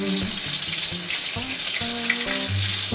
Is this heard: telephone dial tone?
no